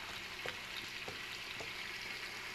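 Onion cooking slowly in an uncovered pan over low heat, a faint, steady sizzle with a few soft stirring clicks and scrapes.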